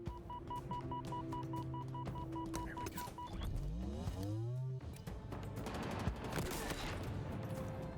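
Gunfire from a first-person shooter match in Halo Infinite: dense, continuous bursts of shots with electronic tones and a rising whine in the middle, loud and sustained throughout.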